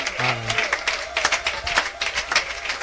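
A church congregation at a wedding service claps in scattered, uneven bursts, with a voice and crowd murmur mixed in underneath.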